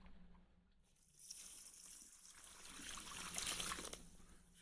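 Water pours and trickles steadily into buckets drained from an electric composter, a continuous splashing wash that swells louder toward the end, with no voices.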